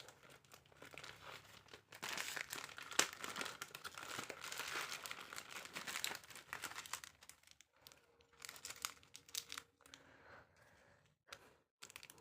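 A plastic packet holding aari embroidery supplies is handled and opened, giving bursts of close crinkling and rustling that come and go in uneven clusters, with quieter pauses between.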